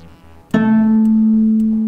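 A cello's open A string is bowed once for tuning, a clear sustained note that starts abruptly and rings alone for over a second.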